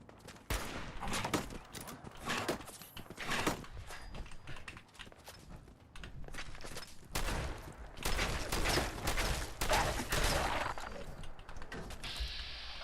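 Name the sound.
gunfire in video game Fallout 4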